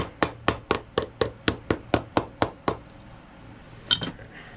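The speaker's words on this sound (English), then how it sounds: "I'm hammering it down" Sharp hammer blows strike down the replacement heel on a Florsheim Imperial shoe, about eleven evenly spaced knocks close up, then a pause and one final stray clatter.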